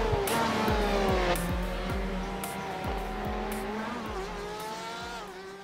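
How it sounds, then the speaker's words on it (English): A GSRC 4 GT race car laps Suzuka in iRacing, its engine revving and climbing through gears with sharp downshift blips and a steady, close onboard drone. "we're in the GSRC 4 GT, so let's do a lap around Suzuka"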